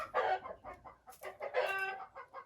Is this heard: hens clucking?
yes